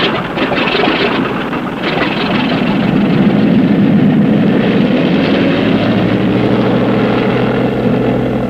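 Steady, loud drone of a light propeller airplane engine flying overhead in a classic western setting, a continuous hum that swells slightly and holds with no voices.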